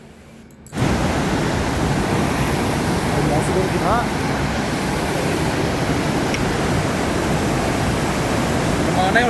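Two mountain rivers, the Lakshman flowing from the Hemkund Sahib lake and the Pushpa from the Valley of Flowers, meet at a confluence near Ghangaria, a loud steady rush of whitewater that starts abruptly and holds constant throughout.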